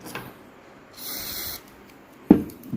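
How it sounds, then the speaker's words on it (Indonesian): Cleaning lubricant is sprayed from an aerosol can onto a Shimano Curado 201 HG baitcasting reel, a half-second hiss in the middle, followed by a sharp close knock or clack near the end amid quiet surroundings. "Kita semprot lagi ya."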